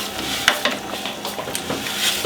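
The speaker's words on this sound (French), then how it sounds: "On égalise, on mélange." Ground cumin, herbs and spices are stirred into a meat sauce in a pan, with a constant sizzle and repeated close scraping and clattering strokes of the spoon.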